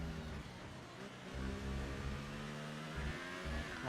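Race car engines in a sim racing league round at the Spanish Grand Prix, one car being wrestled through a chicane; loud, continuous harmonic engine whine with revs rising and falling as gears change, layered cars blending close by.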